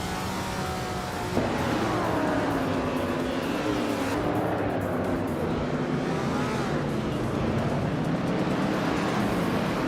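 Engines of vintage race cars in a video game, including a Ferrari 250 GTO, roar steadily and loudly with shifting pitch as they accelerate and shift gears, a dense pack of cars close by, with no talking.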